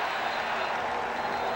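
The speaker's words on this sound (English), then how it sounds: "The crowd reaching new decibels" A packed football stadium crowd roars at a 2006 CFL game between the Calgary Stampeders and the Saskatchewan Roughriders, a dense, steady wall of noise with no break.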